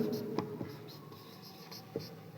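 Chalk or pen scratching across a classroom board in short strokes with a few sharp taps, fairly faint and close, with faint room noise.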